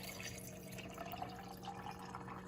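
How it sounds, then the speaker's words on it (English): Water poured from a container over almonds in a sink, a faint steady trickle and splash heard alone at low volume. "just pour your water right on top of your almonds"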